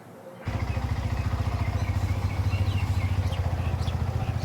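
Motorcycle started up by a friend, the engine catching after a brief quiet moment and settling into a steady, loud, rhythmic idle close by with no talking over it.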